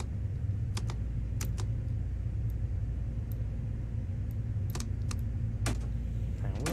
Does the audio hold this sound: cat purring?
no